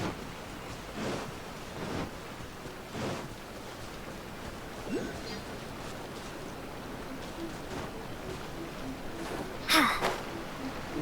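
A waterfall rushes steadily in Genshin Impact, a soft, continuous wash of falling water with a few faint, brief sounds over it.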